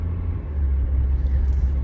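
A truck squeezing into a tight spot at the last moment passes close by, a steady low engine rumble that holds loud and near throughout.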